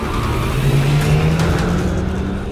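A BMW race car in the Project Cars racing game, at Brands Hatch, accelerates hard with a loud, close engine note that climbs in pitch, a continuous roar with no talking.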